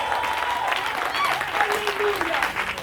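A church congregation claps and cheers in a sustained burst of applause, a bright crowd wash with a preacher's voice rising over it.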